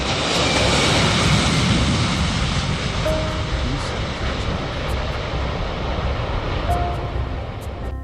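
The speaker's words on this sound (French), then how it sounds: "le vol Swissair 111 décolle de New York en direction de Genève" A Swissair airliner on its night departure from New York produces a loud, broad jet-engine roar that holds steady for several seconds before easing slightly, with a faint voice briefly underneath.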